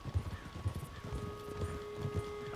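Horse hooves clip-clop in Red Dead Redemption 2, a steady trotting rhythm of soft thuds under faint ambient tones, close and moderately loud.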